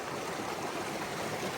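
Creek water rushing steadily through a gold sluice box set in a small secret creek, a continuous close, broadband stream with gentle trickling and gurgling texture and no pauses.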